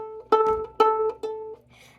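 A violin's open A string bowed alone in three separate strokes, each a clear, sustained tone with rich overtones, the last shorter, followed by a brief faint rustle.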